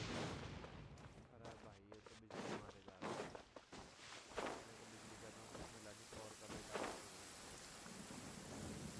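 Thunderstorm with heavy rain in the video game Genshin Impact, a dense steady downpour broken by several loud booming thunder cracks and rumbles, with voices talking intermittently over it.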